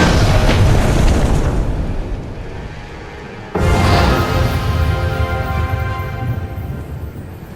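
Two heavy booming explosions from a Detonate card in the Eternal Card Game on Xbox, each a loud, dense blast with a long rumbling decay, the second striking abruptly as the first fades.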